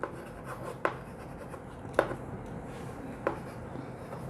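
A marker or chalk writes on a classroom board during a biology lecture, faint scratchy strokes with a few sharper taps, in a quiet room.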